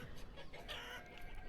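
Chicken clucking in the village-building video game Banished, a few faint clucks over low background game sound, brief and quiet.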